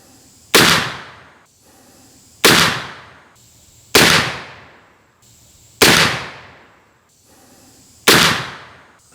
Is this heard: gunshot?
yes